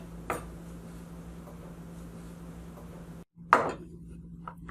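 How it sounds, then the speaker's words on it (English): Knife slicing cucumber thinly on a cutting board, with a few sparse, faint taps spaced well apart over a steady low hum and a brief cut in sound near the end. "you just want to cut the cucumber into thin slices"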